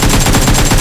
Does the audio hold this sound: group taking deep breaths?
no